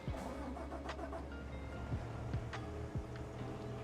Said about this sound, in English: So let's grab our tractor.